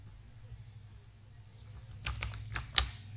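Quiet keyboard typing in a brief flurry of clicks toward the end, entering hours into an Excel spreadsheet, with a low room hum underneath and no talking.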